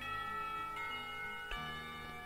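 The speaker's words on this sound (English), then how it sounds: "Somewhere the school bells ring" A school bell from the visual novel Katawa Shoujo rings in a steady sustained tone, with a fresh strike partway through that swells and lingers alone without voices.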